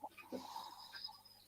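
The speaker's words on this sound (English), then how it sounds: "He wants a clean recording of Omega snoring for an episode." Omega snoring softly in a quiet room, a brief, faint breathy snore lasting just over a second, with low murmurs in the background.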